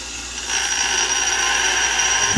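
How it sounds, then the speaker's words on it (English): A handheld grinder works down a part from a crashed BMW S1000RR superbike, giving a steady high whining buzz that starts abruptly and runs on close and loud without pause. "So I've been having to grind it down with this guy"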